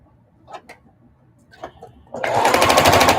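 A sewing machine stitches a denim appliqué quilt, starting with a few soft clicks and then running in a loud, fast, steady whir.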